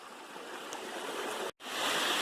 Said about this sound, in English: There's the waterfall.